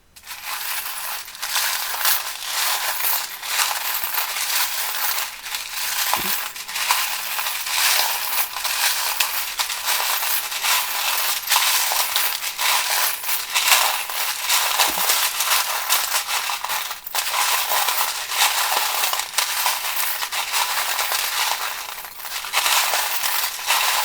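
Small tarot charms and dice tumble and clink onto a spread of cards, making a steady rattle of metallic clicks over a hissy background, with a couple of sharper knocks standing out.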